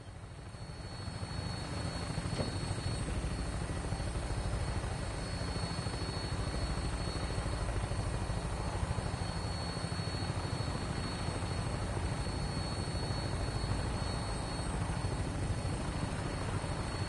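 Steady, loud roar of an aircraft in flight in the game Fallout 4, a continuous broadband engine and rotor drone with a faint whine on top, sustained throughout without any talking.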